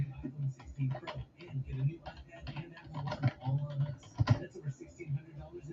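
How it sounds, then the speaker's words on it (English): Clicking on a computer keyboard, irregular light key taps of moderate loudness, set against the murmur of a baseball broadcast crowd in the background. "I'm just typing in a couple more notes."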